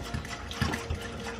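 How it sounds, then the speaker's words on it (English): Mashed bananas and vegetable oil are stirred together in a bowl, giving soft, wet squelching and sloshing strokes in an uneven rhythm, close and fairly quiet. "So just giving these bananas and oil a quick mix."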